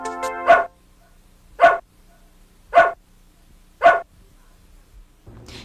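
A dog barks four times in an even, spaced rhythm, each bark loud, single and close, with quiet gaps between and a short burst of other noise at the end.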